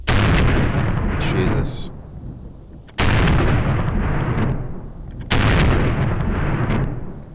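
Three loud gunshots from a non-compensated 10mm MVP 2.0 pistol, evenly spaced about two and a half seconds apart, each with a long booming decay, and a brief spoken exclamation between the first two.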